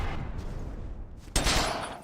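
Heckler and Koch gunfire in the video game Battlefield, mod set in Yugoslavia: a steady stream of rapid automatic shots close up, swelling into a louder, denser burst of fire partway through.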